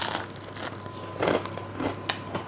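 A bite into a crisp oregano-topped pizza gives a few sharp, close crunches with brief pauses between them and no talking.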